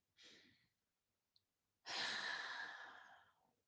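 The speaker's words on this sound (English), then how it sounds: "everyone, a deep breath in" A deep, breathy inhalation during a guided breathing exercise, sustained for nearly two seconds and preceded by a softer breath, heard close and alone with no talking.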